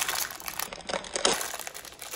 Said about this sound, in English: Let me take it out the package